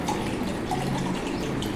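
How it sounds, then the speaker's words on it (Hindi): Water poured steadily into a container during a classroom science experiment on water's thermal state, a continuous close splashing trickle with no pause. "हम इसमें पानी डाल रहे हैं"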